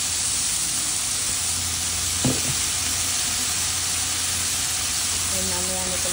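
Fresh fish frying in a pan with a steady, dense sizzle throughout, a brief clatter near the middle and a soft voice murmuring toward the end.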